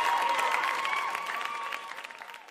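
Audience applause, a short burst of dense clapping that starts fairly loud and slowly thins out over a couple of seconds.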